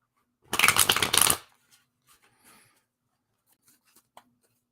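Tarot cards being shuffled for a card pull, a close, crisp riffling burst lasting about a second, followed by a few faint taps and soft handling sounds in a quiet room.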